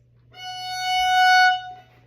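A single sustained F sharp note with rich, steady harmonics, held for about a second and a half before fading, played alone with no talking.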